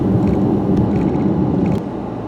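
A car drives along a road toward the Laura Ingalls Wilder birthplace cabin, with steady low road rumble and engine noise continuing throughout.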